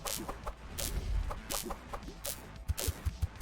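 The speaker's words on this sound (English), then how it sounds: "The birds are a little much." Birds squawking in the PC video game Her Name Was Fire, a burst of loud clucking, fowl-like calls in quick irregular bunches over game sounds, with sharp thumps near the end.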